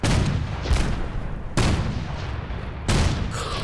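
Heavy gunfire in Fallout 4, three loud blasts roughly a second and a half apart, each followed by a long rumbling echo, with no talking.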